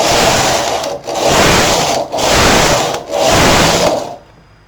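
An SK 280 knitting machine whirs loudly as a stitch loop is moved to an empty needle, in three long mechanical passes separated by brief dips, then the noise stops and near silence follows.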